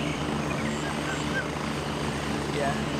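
A helicopter in the Gray Zone Warfare video game drones with a constant rotor and engine roar throughout, sustained and fairly loud with no break.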